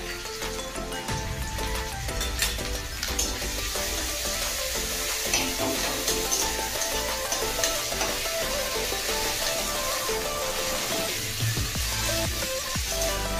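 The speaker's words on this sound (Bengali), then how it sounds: "আদাটা একটু নেড়ে নিচ্ছি" Ginger fries in a wok (kadai) with a continuous loud sizzle, stirred steadily with scraping strokes throughout, close and dense with no talking.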